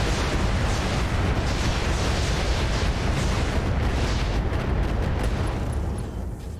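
A volley of MRM missiles slams into a mech in the RogueTech video game, producing a dense, loud, continuous roar of explosions and rumbling impacts that tails off slightly at the end.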